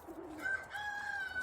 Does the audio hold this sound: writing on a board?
no